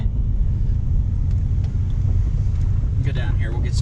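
A car rumbles loudly up close with a heavy, steady low drone, its tires spinning in snow, and a voice breaks in briefly near the end.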